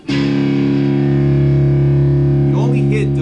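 Two-string power chord on a distorted electric guitar from a song, struck once and left ringing loud and sustained for about three seconds, with brief fret noise as it ends.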